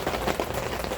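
Rain falls steadily in a dense, close hiss of drops on a surface, with no gaps and no voices.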